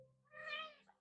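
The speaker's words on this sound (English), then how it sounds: "I just pet my cat the wrong way." A cat lets out a single short, rising-and-falling meow after being petted the wrong way, clear and close, with a faint voice underneath at the start.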